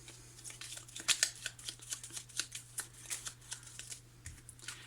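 Petit Lenormand oracle cards being shuffled by hand, a quick run of soft riffling flicks repeating in a steady rhythm, close and quiet, with no talk.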